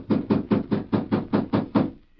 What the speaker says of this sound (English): Inside, when Miller heard the knocks